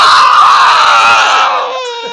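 A girl whose tooth has just broken cries loudly and shrilly up close in a sustained wail that tapers off into softer sobbing.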